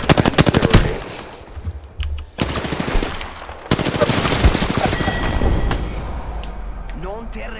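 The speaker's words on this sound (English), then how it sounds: "I am taking fire" Rapid automatic gunfire in Apex Legends, loud bursts of repeated shots followed by sustained firing and impacts, with a voice talking over parts of the action.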